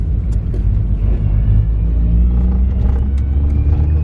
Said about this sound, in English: I'm driving a Yashio Factory Spec S15, but not just any S15.